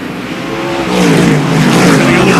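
Super short track race cars roar through a corner in 2014 series racing, several engines droning and rising together up close in a dense, continuous, rasping growl that swells as the pack passes.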